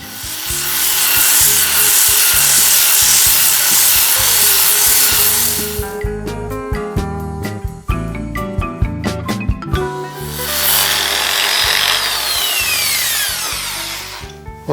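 Sandpaper rubbing back and forth on wood after rough chiseling, a steady loud scraping that gives way to a stretch of rhythmic knocking and tapping before the continuous abrasive rubbing returns.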